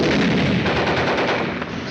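Dense, continuous machine gun fire from WW2 combat in France, loud and close, with rapid overlapping bursts that fill the whole stretch without a break.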